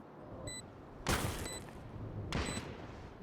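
Gunfire in a tactical shooter game, sharp bursts of shots cracking out in two main volleys over a busy low background, with faint electronic tones between them.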